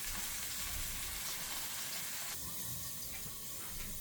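Salted beef bones sizzle and brown in a hot pan, a steady hiss and crackle that stays loud and even throughout, with no talking.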